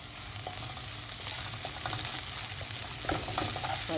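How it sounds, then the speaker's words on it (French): Garlic and pepper strips sautéing in hot oil over high heat: a continuous soft sizzle with light crackles and occasional stirring clinks, moderately quiet and close, with no voices. "je vais mettre l'ail et je vais mettre aussi les lanières de poivron et je vais les faire cuire, enfin les faire sauter 2 minutes"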